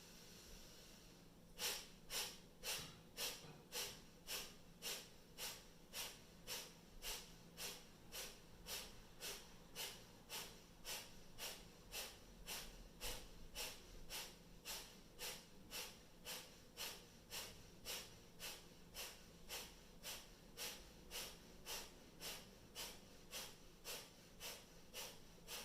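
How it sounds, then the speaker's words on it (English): Kapalabhati yoga breathing brings sharp, forceful exhalations through the nose, a long steady train of quick hissing puffs at about two per second, close and fairly quiet, with no talking. "we'll take 50 of these Kapalabhati breaths"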